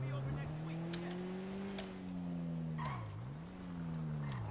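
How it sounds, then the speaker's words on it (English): Video game AI car spinning its wheels, a loud steady engine drone that holds pitch, then dips and climbs again as the tires spin, with a few faint clicks over it. "This car's got a lot of wheel spin for being an AI car."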